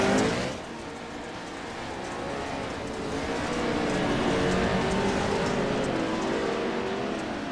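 A pro truck races around the Midwest Mudder course at Crandon, its engine roaring close and loud, climbing steadily in revs with a clear rising tone and a gritty mud-spray hiss underneath, no talk.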